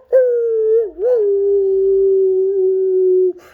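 A voice imitates a wolf howl to call wolves: one long, loud, steady howl with a brief dip near the start, then holding a level pitch for about three seconds before cutting off.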